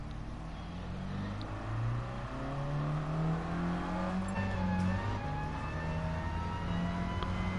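A Mini Cooper race car in a racing video game drones steadily through the run, its engine pitch rising and falling through gear changes and acceleration at a constant, moderate level, heard without talk.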